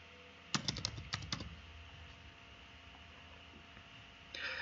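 Typing on a computer keyboard: a quick flurry of about eight close, crisp keystrokes in two bursts over a low steady hum, then quiet, with a brief faint burst of clicks at the end.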